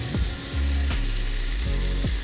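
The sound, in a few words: water poured into sautéed spices in a frying pan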